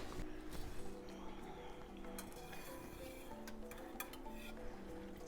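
Metal whisk spinning through cut raw-milk cheese curds in a pot while making Pepper Jack, a steady wet swirling with light clinks against the pot's side, continuous and close.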